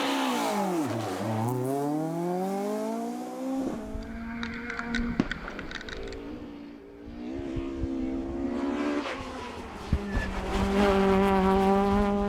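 Historic rally car driven on the Moll's Gap stage at the Killarney Historic Rally, right-hand drive, engine revving and rising through gears, then a brief lift and renewed hard acceleration, loud and close with a tire squeal.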